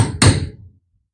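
A single sharp knock lands on a part of a vintage D.A.M Quick 2000 fishing reel during repair, a close, loud tap that dies away quickly into silence.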